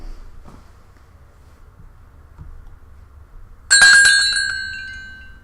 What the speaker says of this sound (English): the bell on the door chimes